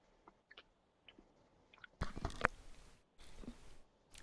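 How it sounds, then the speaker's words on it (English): A cookie being crunched close to a microphone: a few soft crumbly bites at first, then a loud burst of crunching and chewing, with quiet pauses between. "Sorry, I was crushing my cookie."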